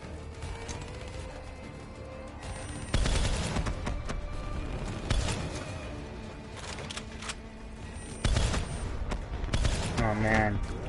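Heavy gunfire in a Call of Duty: Black Ops 3 zombies match: dense, continuous bursts of rapid shots with sharp louder volleys and mechanical clatter, loud and close throughout.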